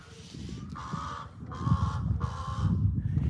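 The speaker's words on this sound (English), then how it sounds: "Yeah, that's right, bird." A bird gives three harsh, drawn-out caws in a steady rhythm, fairly close, over a low rumbling background.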